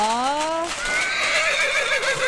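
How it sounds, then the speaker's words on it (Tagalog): A horse whinnies loudly and close by, its neigh falling in a long wavering cry that lasts the whole moment, with no talk over it. "parating na yung kabayo"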